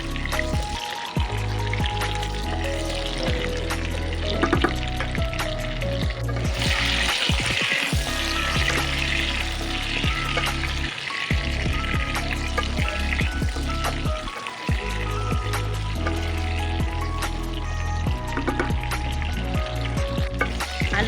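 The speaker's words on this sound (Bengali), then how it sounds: "এক চামচ লবণ দেব, দিয়ে ভালো করে ভাজবো আলুটা।" Potatoes fry with a spoonful of salt in a pan, giving a steady sizzle with occasional clatter throughout, with no talk.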